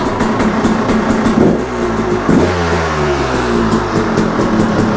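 A 2012 KTM 300 XC two-stroke dirt bike with an Architect head and stock carburetor fires up, sputters briefly, then settles into a loud close-up idle with a falling pitch.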